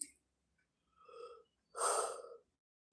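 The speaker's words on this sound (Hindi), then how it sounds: "अरे राम, जम्हाई आ रही है मुझे।" A woman yawns during a live stream, a breathy inhale followed by a longer, louder drawn-out exhale, close and quiet with no words spoken.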